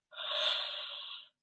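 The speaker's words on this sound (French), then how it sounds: "bâillez, ouvrez largement vos mâchoires" A wide-jawed yawn during a yoga relaxation stretch, one long breathy exhale lasting about a second, steady and close, with no talk over it.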